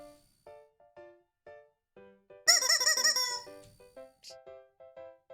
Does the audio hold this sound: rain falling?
no